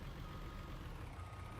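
A truck in Farming Simulator 19 backs up with its reversing alarm, a steady run of beeps riding over a dense low engine rumble that stays loud and unbroken throughout.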